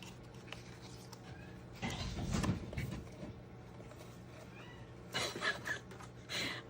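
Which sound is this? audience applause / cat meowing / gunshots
cat meowing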